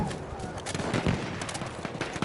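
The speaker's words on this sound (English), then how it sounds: "It's one thing I like in a scout rifle." Rapid follow-up shots from a scout rifle in a video game, a burst of quick crackling reports layered over busy in-game background noise, with a voice speaking faintly underneath.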